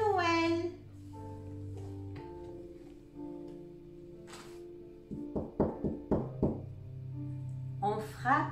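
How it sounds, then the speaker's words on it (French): Several sharp knocks on a door in a quick cluster, set amid soft music and a gentle voice in a children's Christmas story scene. "On frappe à la porte."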